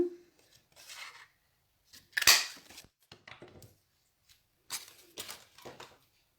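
Scissors snip paper in a few short, crisp bursts separated by quiet gaps, with one louder sharp cut partway through.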